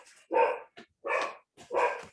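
A dog barks three times in quick succession during a curriculum committee meeting, loud and close, with a short yip between the first two barks.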